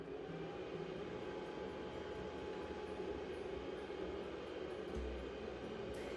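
An ozone generator running for oxygen therapy gives off a steady, even hiss and hum that holds at one level throughout, with faint clicks near the end and no voices.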